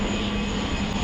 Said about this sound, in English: You can hear the plane in the background.